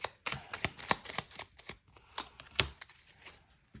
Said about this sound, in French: je tire... une carte pour la féminine